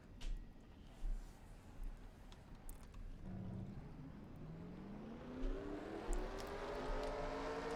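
Race car engines fire up and rev in the NASCAR Racing 2003 video game at Talladega, with rising engine whines layering into a thick rumbling roar that builds over several seconds, fairly faint overall.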